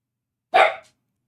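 A dog gives one short, close, sharp bark, alone in silence.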